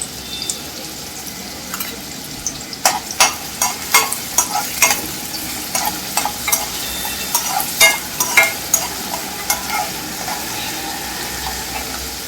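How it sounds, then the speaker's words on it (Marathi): Chopped onion and curry leaves frying in hot oil in a home kitchen, a close crackling sizzle with a run of sharp spattering pops and stirring clatter, no talk. "तेल गरम झालं त्याच्यात मी आधी कांदा घालते. आणि कांदा घातल्यानंतर लगेच मी याच्यामध्ये कढीपत्ता पण घालते."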